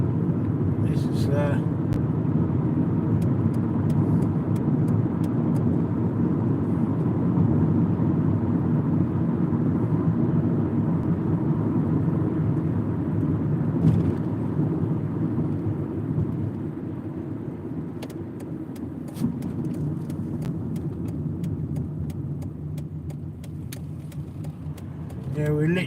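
A car driving late at night near a city airport, its steady low road rumble and engine hum continuing throughout, with faint clicks and rattles from inside the cabin.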